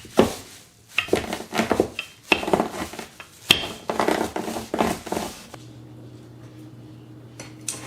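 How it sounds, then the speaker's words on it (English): A rolling pin crushes peanuts for egg rolls at a bakery, heard as a series of close, sharp crunches and knocks in uneven bursts, followed by quieter background hum with a faint final tap. "So just crush some peanuts using a rolling pin."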